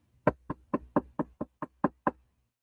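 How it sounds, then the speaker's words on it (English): Knuckles rapping on an office door, about nine crisp, close knocks in a quick, even rhythm, followed by silence. "somebody knocked on his office door"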